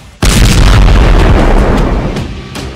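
A single loud, close explosion from rockets and missiles being shot down by Israel's missile defense system, a sudden heavy boom that rolls into a long rumbling decay.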